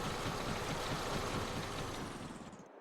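A small Honda engine powering a grape harvester runs steadily, a dense, continuous drone with a rough knocking texture that holds even before easing off and cutting out at the end.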